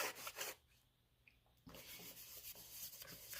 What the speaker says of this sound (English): And you could rub it with your fingers